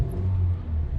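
A car accelerating, a steady low engine rumble with a smooth droning tone that holds for about a second, fairly loud and close.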